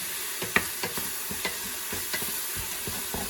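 Browning ground turkey with sausage, onion and garlic sizzles in a pot while a spoon stirs it, giving a close, steady frying hiss broken by a series of rhythmic scraping strokes, with no talking.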